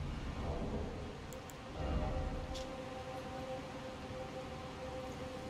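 Lightning and thunder in a murky swamp in Elden Ring Shadow of the Erdtree, a continuous rumbling, droning storm bed that swells briefly, with a few faint high crackles and zaps above it.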